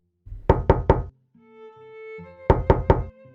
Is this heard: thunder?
no